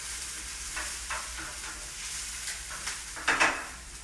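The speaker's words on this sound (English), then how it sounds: "I'm going to use my wooden spoon to push it all around so it all mixes together." Onion and garlic sizzle softly in a pan while a wooden spoon pushes them around, giving a steady frying hiss broken by a few scraping stirs and one louder clack near the end.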